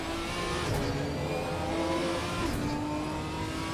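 Ginetta GT4 race cars in a racing video game drone along in a tight pack, their engines loud and steady, with a continuous high whine and no voices.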